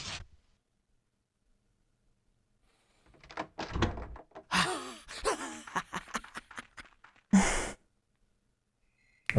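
Door unlocked and opened in the video game Rule of Rose: a short thud at the start, then a stretch of clicks and creaking movement, ending with a loud abrupt knock, all in a quiet game scene.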